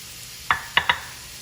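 Hamburger meat browning with onions in a pan, a soft steady sizzle broken by three quick scraping stirs from a utensil, close and without talking.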